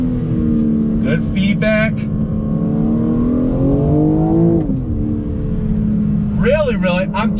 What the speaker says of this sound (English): 2nd gear. Hard throttle, here we go.